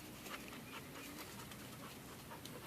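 Junior, a pit bull dog, pants quickly and rhythmically, close by and faint, over a steady background hiss.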